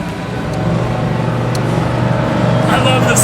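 A school bus at a demolition derby, its engine running with a loud, steady rumbling drone that builds slightly and holds, with crowd and arena noise mixed in around it.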